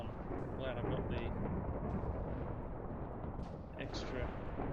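A lightning strike in Minecraft brings heavy, booming thunder that rumbles loudly and steadily throughout, with small game chirps and blips scattered over the rumble.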